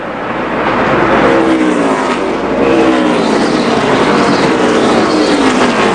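NASCAR race cars roaring past on track during a 2005 Bashas Supermarkets 200 race, loud continuous engine snarl with rising and falling pitch as several cars pass close by.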